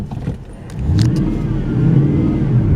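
A car drives up a paved stretch of County Road 23.3 past the Rancho Escondido sign, its engine a steady, close rumble that swells and holds as it climbs, with no talk over it.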